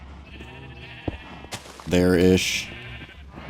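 A Minecraft sheep gives one loud, close bleat partway through, heard over a player's speech and soft game background sounds.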